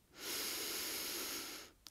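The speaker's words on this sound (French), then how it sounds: "Je respire. Toujours par le nez." A single long breath drawn through the nose while holding the yoga tree pose, with a soft, airy hiss that lasts about a second and a half, close and quiet.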